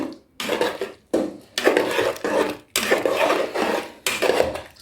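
Stew peas with pig's tail stirred in a pot for a Jamaican dish, giving repeated scraping and clinking strokes of a utensil against the pot in bursts with short pauses, close and fairly loud, with no talking.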